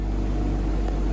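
A 2023 BMW M340i's engine drones in a steady deep sporty note, loud and close with strong low rumble and no distinct pops or talk.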